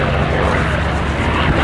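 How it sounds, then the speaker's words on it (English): A Mustang fighter flies past at an air display, its engine a loud, steady drone held throughout with no break. "Yes, the Mustang is now clearing because here comes the Hurricane to do his display."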